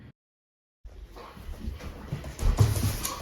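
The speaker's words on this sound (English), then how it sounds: "All right, guys, the big dog's out." Roxy, a big dog on a hog farm, moves close by after a brief silence, with rustling, snuffling and low breathy noises that grow gradually louder.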